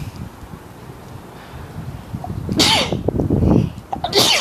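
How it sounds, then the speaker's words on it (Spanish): A single sharp sneeze bursts out close to the mic amid low room noise and faint rustling, followed by a second smaller burst of breath at the end. "Perdón por el estornudo"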